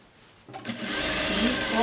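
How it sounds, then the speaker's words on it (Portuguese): A sewing machine stitching part of a coat starts up after a quiet moment and then runs steadily and close by, a continuous whirring hum. "E costuro."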